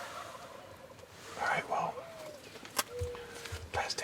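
Wild turkeys gobbling on a South Dakota spring hunt morning, a few brief distant gobbles among bird calls and cooing, with a person speaking quietly nearby.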